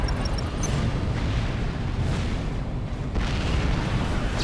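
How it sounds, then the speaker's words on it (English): Explosive bursts and booms from an Aurora unit firing on troops in the real-time strategy game Supreme Commander, rumbling blasts layered over continuous battle noise, with a few faint high tones near the start. "the Aurora is going to shoot my dudes. It shot my dudes"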